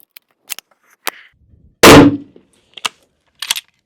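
A Winchester M70 push-feed rifle fires one sharp, loud, close shot outdoors, set among scattered small clicks and knocks of handling before and after.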